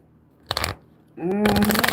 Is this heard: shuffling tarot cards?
yes